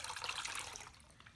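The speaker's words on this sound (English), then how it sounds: "So there is our icy cold water." Icy cold water poured into a container for a simple kitchen science demonstration, a brief bright splashing trickle that fades toward the end.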